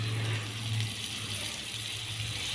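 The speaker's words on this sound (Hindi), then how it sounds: "तो अब इसमें थोड़ा सा पानी शामिल करते हैं" Water pours steadily into a cooking pot of spiced potatoes as a continuous close hiss and splash, lasting the whole moment without a break, with a low hum underneath and no talking.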